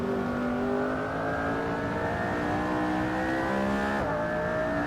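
A race car engine from the Grand Tour Eboladrome lineup in Assetto Corsa revs steadily higher under load, with a brief gear-shift dip near the end before climbing again, loud and close.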